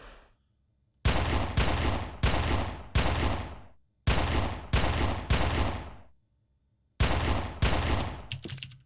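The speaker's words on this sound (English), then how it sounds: "Take some target practice here. Be sure to destroy all the bottles." Rapid gunfire shatters bottles during target practice in the PC shooter Red Faction, with three loud bursts of sharp, echoing shots in quick clusters separated by brief silences.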